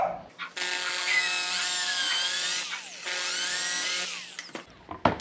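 Power drill boring into a wooden stool, a high whining motor in two long sustained runs with shifting pitch, close and loud, separated by a brief pause and followed by light handling clatter.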